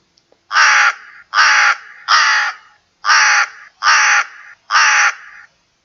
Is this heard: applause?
no